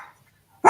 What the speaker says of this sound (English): I need to let the dog out of my room.